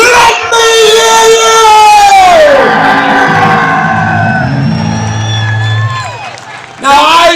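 A large crowd at a Uniting the Kingdom rally in London roars, whoops and cheers loudly and continuously, then a sustained low collective bellow swells beneath the shouting before the noise tails off and surges again at the end.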